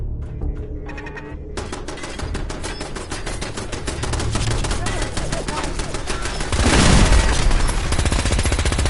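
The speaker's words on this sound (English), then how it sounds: "I believe a sniper has found us" Sniper gunfire in Fallout 4, with sharp rapid cracks firing in a steady stream through most of the stretch and a heavier boom building toward the end, loud and busy with game sounds all around.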